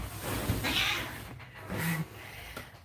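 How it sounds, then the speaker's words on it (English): A pet cat meows twice, at moderate volume and fairly close, within a busy home setting where a voice had just been telling the cats to stop fighting. "Okay, my cats."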